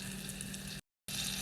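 Brown sugar frosting with half and half boils and sizzles in a pan, a steady bubbling hiss that cuts out abruptly for a moment and then resumes.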